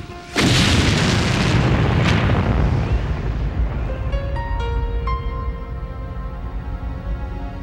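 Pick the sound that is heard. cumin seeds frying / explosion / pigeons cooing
explosion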